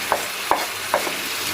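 Spring onions and fresh onions tipped into a hot pan over a steady sizzle, with three soft stirring scrapes at a slow, even pace, loud and close with no voices.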